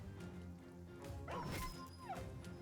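A dog yelps and whimpers as it is killed in the video game Battle Brothers. A sharp, faint cry is followed by a short whine, with an impact sound among quiet game effects.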